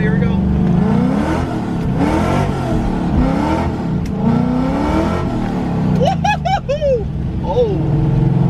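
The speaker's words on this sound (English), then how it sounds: "since it's raining, let's do a little action. Let's do a little sliding right here" A Coyote 5.0-swapped 2007 Mustang GT revs hard and slides on a rain-soaked road, the engine rising and falling repeatedly with sharp tire squeals near the end, while someone talks over it.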